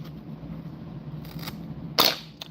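Scissors cut a chunk of white bucktail for fly tying, a close, crisp snip that stands out sharply, followed by a softer second snip against a quiet room hum.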